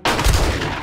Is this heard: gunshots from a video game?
yes